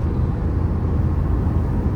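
Suzuki S-Cross 1.3 Multijet diesel pulling hard at full throttle, a loud, steady engine drone with heavy low rumble and road noise from inside the cabin, no talking.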